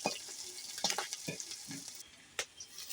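Taro leaf greens frying in hot oil with garlic, green chili and nigella seeds, a steady close sizzle broken by several sharp scraping stirs and clatters of the spoon against the pan.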